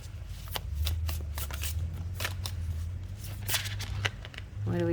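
Tarot cards are shuffled by hand in a run of quick riffling bursts before a single card is drawn, close and crisp over a low steady hum, with a brief voice at the very end.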